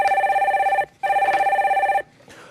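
Telephone bell ringing for an incoming call in a broadcast studio, two loud electronic trilling rings with a short gap between them, close and clear, no talk over them.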